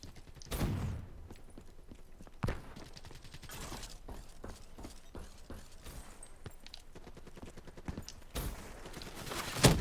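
Gunfire in a Black Ops 3 multiplayer match: scattered sharp shots and short bursts, with a few louder blasts near the start and end, over steady game ambience.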